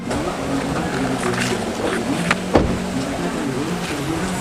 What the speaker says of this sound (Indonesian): Itu mobil yang sedang jalan ke sini, itu mobilku